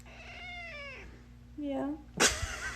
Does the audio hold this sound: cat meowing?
yes